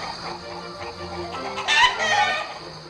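Cartoon chickens at a Peppa Pig Christmas show cluck and crow in a busy, overlapping chorus that swells near the end, with no speech.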